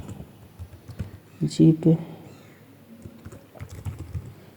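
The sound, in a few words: typing code on a computer keyboard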